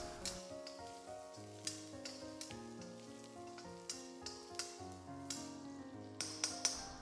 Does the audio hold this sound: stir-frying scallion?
yes